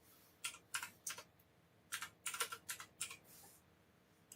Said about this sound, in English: Oh, let me type it in there.